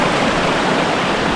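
Clear stream water rushing past stepping stones in the Peak District in winter, a steady, loud, broadband wash that fills the whole moment without pause.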